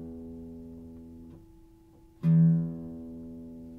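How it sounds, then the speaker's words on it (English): The low E string of a guitar is plucked by pulling it straight up toward the ceiling, and a single sustained low note rings clearly after an earlier note fades; no talk. "I'm going to pull it straight towards the ceiling"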